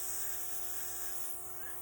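An airbrush spraying makeup gives a steady, soft, high hiss, faint and continuous, with a light electrical hum beneath and no clear pauses.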